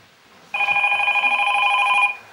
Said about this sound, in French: Téléphone. Tu le prends ou quoi?